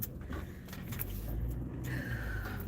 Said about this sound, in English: I'm just backing into my garage.